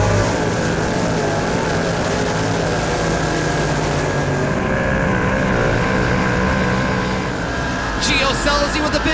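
Dirt track race cars in a heat race roar past, a continuous loud engine drone that shifts as the field passes, with a faint voice underneath.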